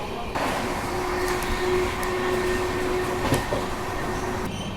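An Indian Railways train with car-carrier wagons rolls past, a steady loud rumble and clatter of wheels with a faint tonal hum throughout.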